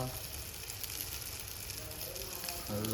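Fish sizzles in a frying pan, a steady, dense crackle of hot oil that continues without a break throughout, close up, with faint background noise.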